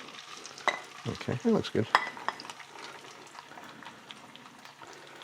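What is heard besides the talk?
potatoes frying and being stirred in hot oil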